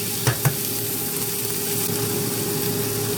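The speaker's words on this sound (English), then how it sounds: "Fry 400 grams of green peas lightly." Green peas frying lightly in a pan, a steady close sizzle with a faint hum underneath and two soft knocks near the start.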